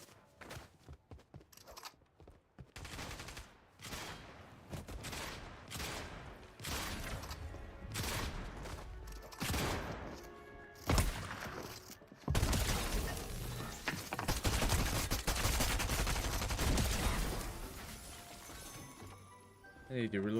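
Weapon fire in a shooter video game: a run of sharp separate shots and crashing impacts at first, then a denser sustained burst of noise, with a voice talking intermittently across it.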